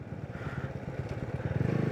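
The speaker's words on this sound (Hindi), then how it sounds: "रुकिए मैं बाइक घुमा के दिखा देता हूँ" A motorcycle turning around on a dusty road under construction on the way to Nathula in East Sikkim, its engine putting in a steady, close, rhythmic thrum that grows slightly louder as it swings around.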